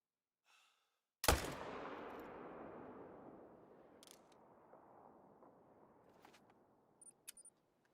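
A single loud rifle shot cracks out while hunting tahr on the Te Awaroa map in theHunter: Call of the Wild. Its long echo rolls away and fades, followed by a few faint clicks.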